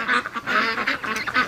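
Free-range ducks quack in a busy, overlapping flock close by, loud repeated nasal calls tumbling over one another with barely a pause, no voices among them.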